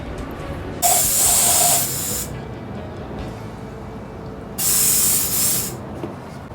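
A spray gun sprays red paint in two separate hissing bursts, each about a second long, with quiet between them.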